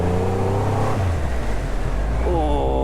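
A Triumph Rocket III motorcycle engine runs loud and steady on a straight road, its deep throb shifting with a gear change before a quick throttle blip sends the pitch climbing near the end.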